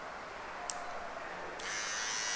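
A Philips BT1230 Series 1000 beard trimmer switches on with a sharp click and then runs as a steady, faint electric buzz that holds to the end, with no talking.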